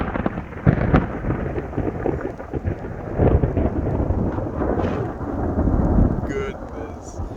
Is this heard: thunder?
yes